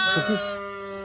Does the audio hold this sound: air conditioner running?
no